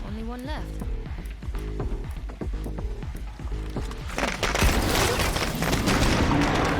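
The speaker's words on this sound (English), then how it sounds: "Let's get another firecracker primed." A firecracker blasts in a video game, a sudden broadband burst at about four seconds that lingers as loud crackling noise, following a stretch of layered game music and effects with repeating tonal patterns.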